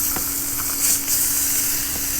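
A steak sears on an induction burner outdoors in a back yard: a steady, close, broad sizzle hisses throughout, swelling briefly midway, with no talking.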